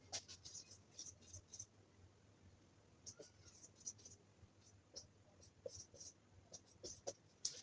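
Pen or pencil writing Roman numerals by hand on paper, close and quiet, with short scratchy strokes and taps in irregular bursts, alone without speech.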